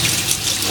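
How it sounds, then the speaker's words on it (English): Hot tap water runs steadily into a sink while saltfish is rinsed, a close, loud, brief rushing splash with no talking. "So I'm gonna go ahead and just rinse it off a bit."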